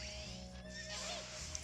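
A horse neighs in the video game Fantasy Life, a wavering whinny over steady game music and ambient tones, moderately quiet.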